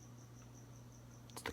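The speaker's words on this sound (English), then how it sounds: "It's the cricket." A cricket chirps somewhere indoors in a faint, regular pulse of short high trills over a low steady hum, ending with a couple of brief knocks.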